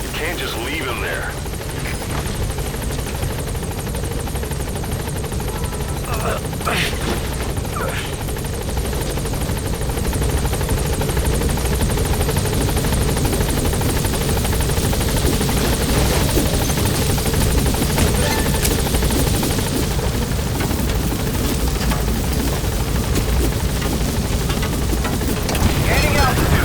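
Helicopter in the game Metal Gear Solid V: The Phantom Pain hovering and unable to land because of an obstruction at the landing zone, a loud, steady rotor thrum and engine roar throughout, with radio voices talking over it.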